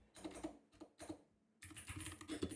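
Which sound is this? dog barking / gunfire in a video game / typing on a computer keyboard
typing on a computer keyboard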